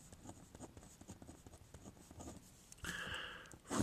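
Pen scratching out an algebra expression by hand on paper, soft irregular strokes and taps, close and quiet, ending in a longer louder scribble.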